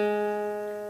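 A single guitar note played on the first fret of the third string rings out clearly and sustains for a second, slowly fading, with no talking.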